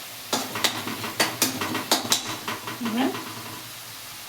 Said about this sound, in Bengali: এবার ভালোভাবে কষাতে হবে